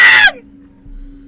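A voice imitates a sharp, high scream in one brief burst that cuts off abruptly, followed by a quiet room hum.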